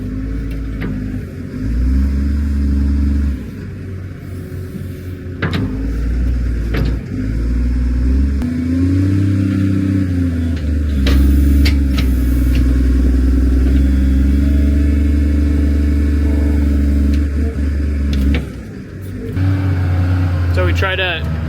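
A farm loader tractor carrying silage in its bucket drives across the yard toward the feed wagon. Its engine drones loudly and steadily, with rattles and clatter now and then and a few surges as it changes pace, and a voice talks over it.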